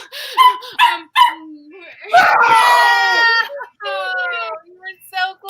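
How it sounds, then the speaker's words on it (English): A pet dog barks and yips in short bursts, then lets out a long, high, strained cry that sounds close and loud, with a few more quick yelps at the end. "My dog is barking at me."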